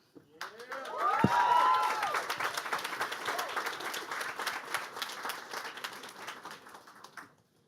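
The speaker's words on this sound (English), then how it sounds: "give them a round of applause" An audience at a web demo day at Google headquarters applauds. The clapping swells quickly with a few cheers, holds dense and steady for several seconds, then thins out and stops.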